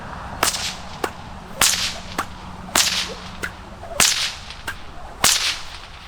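A nylon whip fitted with a fresh cracker and a standard two-strand fall snaps again and again, about eight sharp, close cracks spread unevenly over several seconds with no voices.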